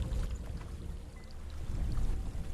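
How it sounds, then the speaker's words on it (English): A waterfall in Hellblade: Senua's Sacrifice gives off a continuous rushing roar, dense and steady, with nothing else on top of it. "There's a waterfall."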